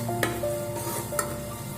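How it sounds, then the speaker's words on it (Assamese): Spices sizzle steadily as they fry in oil inside a pressure cooker for egg biryani, a close, continuous crackle with a couple of brief metallic clinks of stirring. "আমাৰ মছলাখিনি সিজিছে"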